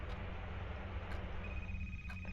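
A telephone rings inside an indie horror game set in a cursed library, a steady electronic ring tone sustained over a low droning ambient hum, with no talking.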